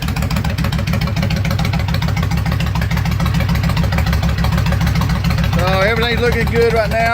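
A Kawasaki Vulcan 1500 motorcycle fitted with straight pipes idles nearby with a loud, steady, lumpy low throb, while someone talks over it near the end.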